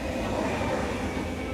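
A metro train runs fast during speed trials aiming past 100 kilometres per hour, giving a steady, loud, continuous rumble and rail roar with no pause.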